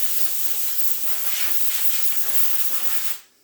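A strong, steady hiss of compressed air blows dust off a person for about three seconds before cutting off abruptly.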